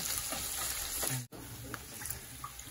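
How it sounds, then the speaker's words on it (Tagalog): Strips of bacon sizzle steadily in a hot frying pan, a dense continuous crackle and hiss close by, with a brief cut partway through before the frying resumes. "I-flip na natin yung ating bacon."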